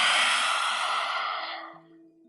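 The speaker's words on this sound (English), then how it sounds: "Let's take 3 lion's breaths here" A single forceful yoga lion's breath, exhaled through the open mouth with the tongue out, close and loud, a broad breathy rush that fades over about two seconds with no talk.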